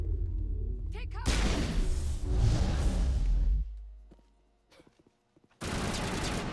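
Gunfire during a firefight in the game Mass Effect Legendary Edition comes in a loud burst of rapid shots and whooshes, drops to near silence with a few faint clicks, then resumes abruptly at full volume.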